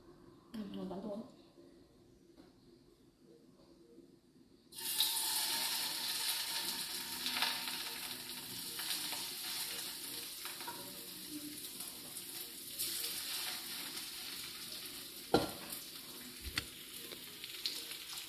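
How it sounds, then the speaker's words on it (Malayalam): Fish frying in a pan on a home kitchen stove, a steady loud sizzle that starts abruptly partway through and continues with crackles and a couple of sharp clinks, after a quieter opening with a brief voice. "മീനും കൂടെ വറക്കാനും ഇടുകയാണ് കേട്ടോ"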